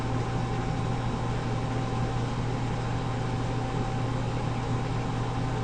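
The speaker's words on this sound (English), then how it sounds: "we hear the agitator start, indicating that we have repaired the malfunction" An agitator motor runs steadily in a tank, mixing and heating fluid after a repaired malfunction, giving a constant even hum with a broad wash of noise and no change in level throughout.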